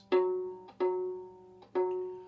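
Three plucked notes on a violin's open G string, out of tune, ring out one after another, each sustaining and fading before the next, a lone, slightly low-sounding open string.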